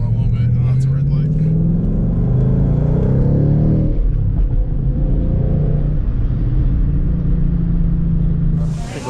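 A 2016 Ford Mustang GT fitted with a ported 2018 intake manifold accelerates with a loud, deep rising engine rumble and revving that climbs then settles, with a voice speaking over the engine.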